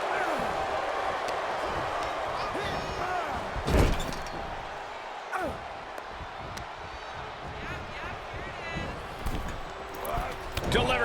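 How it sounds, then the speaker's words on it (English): In WWE 2K23, a wrestler is slammed face down onto the ring mat, one sharp heavy thud amid other impacts, with game commentary and crowd noise continuing throughout. "then slamming their face down."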